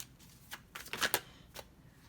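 Tarot cards being shuffled and pulled from the deck, a few quick papery riffles and snaps up close, with no talking.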